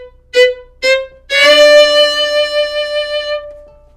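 A stringed instrument picks two short plucks, then lets a single D note ring clear and close, alone, decaying over about two seconds.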